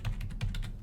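A short burst of typing on a computer keyboard, about five quick close key clicks in a fast, slightly uneven rhythm, fairly soft and with no voice.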